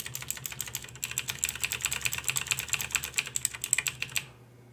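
Fast, steady typing on a computer keyboard while working through a Commodore 64 assembly programming tutorial, a dense run of close clicks and key taps that stops abruptly near the end.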